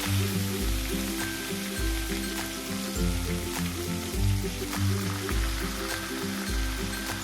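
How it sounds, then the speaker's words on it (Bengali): Chopped tomatoes fry with nigella seeds and slit green chillies in mustard oil left from frying fish, producing a continuous, crackling sizzle close by under rhythmic background music. "টমেটোগুলো একটু ভেজে নেব।"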